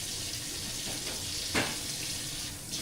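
A kitchen tap runs in a steady, hissing stream during home cooking, with a brief louder splash partway through and no voices over it.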